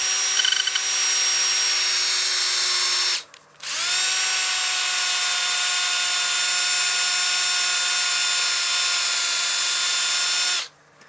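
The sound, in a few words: sanding the rim of a dyed wood platter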